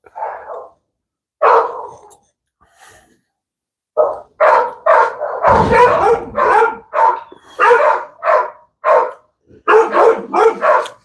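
A dog barks repeatedly, a few scattered barks at first and then a rapid, insistent run of loud close barks, with a brief burst of noise in the middle.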